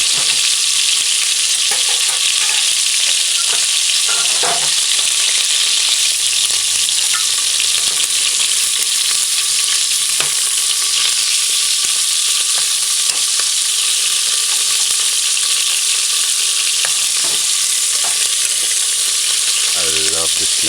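Beef sizzles loudly in a pot on a stove set to medium-high, for beef stew cooked without browning, with a constant close hiss of frying and a few faint stirring knocks.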